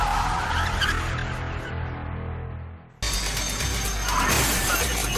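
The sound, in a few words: stolen truck crashing and skidding during police chase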